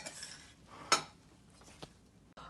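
A spoon stirs fruit salad in a bowl, giving a soft scraping rustle broken by a sharp clink of metal against the dish and a couple of lighter taps, close and quiet.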